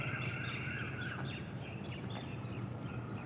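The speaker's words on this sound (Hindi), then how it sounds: "पक्षियों की मधुर आवाज़" Birds chirp and sing at sunrise on a mild October morning in Delhi, bright overlapping calls rising over a steady wash of outdoor background noise.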